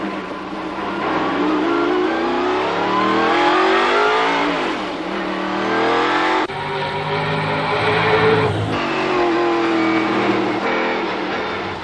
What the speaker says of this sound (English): I want you to ride with me in a Ford Trans Am race car